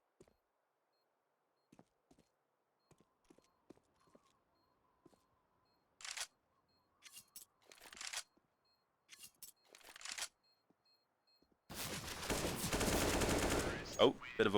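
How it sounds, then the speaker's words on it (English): Dual Berettas fire in Counter-Strike on the Nuke map during a competitive match. Faint scattered clicks lead into short bursts of pistol shots, then a loud, dense spray of rapid gunfire at the end. "the double Beretta spray can be a little bit awkward"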